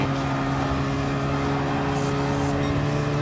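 A front-engine car revs in a racing video game, with a steady, loud, droning engine note holding constant throughout, close and without talk.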